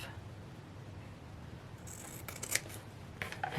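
Scissors snip through vintage fabric trim, giving a few quick, close, crisp cuts against a steady low background hiss, with no voice.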